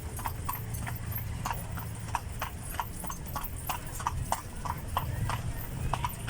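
A horse pulling a kalesa carriage clip-clops at a steady trotting rhythm, crisp hoof strikes close by over a road rumble, with people talking underneath.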